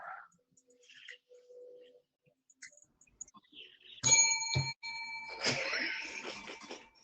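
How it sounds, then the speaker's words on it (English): A bell is struck once with a bright, ringing ding that sustains and decays, followed by a second clang with a rattling burst, loud and close after a quiet stretch. "I had to ding the bell one time."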